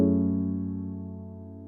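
Edited smooth R&B chord sample playing back: a single sustained, warm chord struck once and slowly fading over under two seconds, clean and alone.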